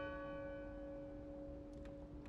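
Bell tolling in the video game Draugen, a steady sustained ringing tone with long resonant harmonics held throughout, fairly loud with a few faint brief sounds near the end.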